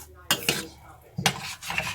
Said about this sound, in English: I'm just kind of scraping it gently. Hopefully it doesn't bother your ears.